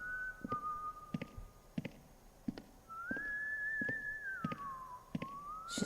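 A janitor in the horror game White Day whistling a wavering tune, the long melodic whistle sliding up and down over a steady background with regular faint footstep-like thumps, no talking.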